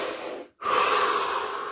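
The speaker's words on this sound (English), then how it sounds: "start with simply a deep breath. Let's take one now." A single deep breath drawn in through the nose during a guided meditation session: a brief exhale, a short pause, then a long steady inhale, close and alone.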